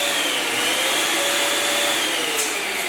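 A loud, steady rushing hiss of an air inflator pumping 11-inch latex balloons for a balloon column, held continuously up close with a faint rising whine, no voices.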